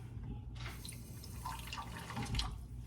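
Water poured from a cup with ice cubes into pie dough of flour, salt and butter, a soft continuous trickle with light drips and a small clink near the end, close and fairly quiet.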